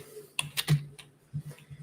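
Keys on an exercise bike's console keyboard are pressed in a short burst, sharp close clicks and taps in quick succession, then a few softer presses after a brief pause.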